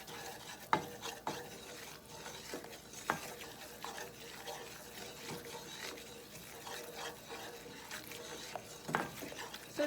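Brown butter stirred in a pan, a soft scraping utensil moving under a faint steady sizzle, with occasional clicks against the pan, fairly quiet and close.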